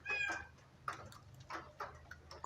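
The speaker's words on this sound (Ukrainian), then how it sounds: "Кішка м'явкала." A cat rescued from a building damaged by a strike mews faintly in a short burst, followed by scattered soft taps and knocks in a quiet room.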